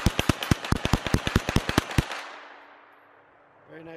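A KelTec Sub 2000 9mm carbine fires rapidly, about fifteen sharp close shots in a fast run over two seconds, then an echoing fade into quiet.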